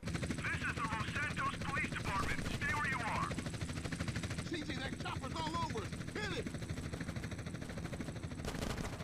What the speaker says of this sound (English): CJ, that chopper's all over.